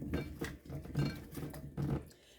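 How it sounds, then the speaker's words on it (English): Salt and parsley seasoning is mixed onto raw ribs by hand, making soft, rhythmic rubbing and patting bursts with faint clinks, quiet and close. "I'm going to mix that all up."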